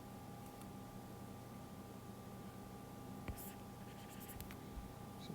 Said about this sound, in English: I'm just going to simplify this drawing right quick.